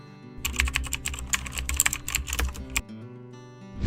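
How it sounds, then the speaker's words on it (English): Rapid typing on a computer keyboard in an Ubuntu terminal: a quick run of clicky keystrokes at close range, dense and uneven, stopping near the end, over a faint background hum. "typing sudo apt update"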